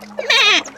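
A goat gives a single loud, close bleat, a short wavering cry lasting under a second with no talking.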